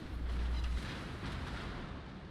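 Naval guns fire in a warship video game as a blazing enemy ship is targeted, a single heavy low boom near the start rolling into a sustained dull rumble and hiss that slowly fades.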